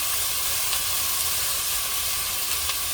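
Bhaji greens with salt sizzle in a hot pan, a steady close broadband hiss with faint crackles throughout and no talking.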